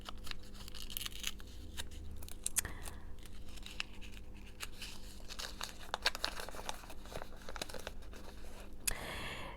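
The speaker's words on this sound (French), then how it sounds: "on va ouvrir une petite papillote du jour, papillote d'amour" A small papillote chocolate wrapper being unwrapped, crisp crinkling and rustling of foil and paper in close, busy bursts over about ten seconds, with sharper crackles throughout.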